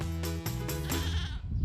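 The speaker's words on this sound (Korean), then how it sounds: "담당 PD가 도착한 곳은 바로 까만 흑염소들이 뛰어노는 흑염소 농장" Black goats on a goat farm bleat close by, with several short wavering cries in quick succession, followed by a little ambient noise.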